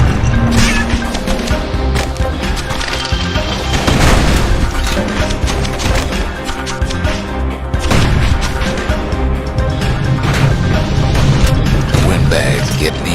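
Security skiffs firing gunfire in Bastion, dense continuous booms and crackling shots packed tightly together, loud and close under a full game soundtrack, with a voice talking over it.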